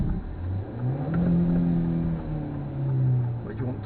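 A learner driver's car engine revs up and down as more gas is given, a low droning hum that rises and falls, close inside the cabin.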